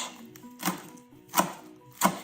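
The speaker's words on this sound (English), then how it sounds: "I'm going to be chopping up some spinach, which I will put into the dish." Knife chopping fresh spinach on a board in a kitchen cooking class: three distinct, fairly close chops spaced about 0.7 seconds apart, each a sharp thud, with faint background hum between them and no talk.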